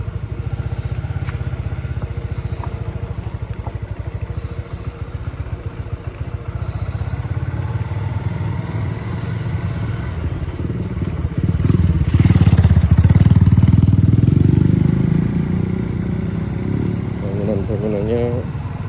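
Motorcycle on a touring ride through an old coffee plantation estate in Kandangan, engine steady and close, then revving up louder as the throttle opens before settling again, with wind and a rider's voice over it.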